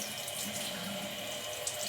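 Tap water runs steadily into a sink to wet a dirty cream bronzer makeup brush, a continuous close splashing stream with no talking.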